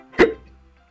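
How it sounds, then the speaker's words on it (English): A single sharp hiccup from a character in the game Doki Doki Literature Club Plus, loud and close, with a short fading tail and no other sound around it. "I've got hiccups, you see? I've got hiccups."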